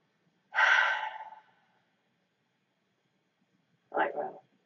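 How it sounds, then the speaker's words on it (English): A deep breath taken during an anxiety tapping exercise: a long breathy inhale followed by a pause, then a shorter exhale, close and clear in a quiet room. "Let's take a breath."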